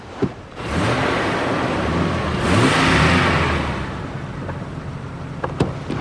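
A car engine revs hard, rising from a short lull into a loud, sustained roar that peaks midway and then settles to a steady mid-level drone, with a few sharp clicks near the end.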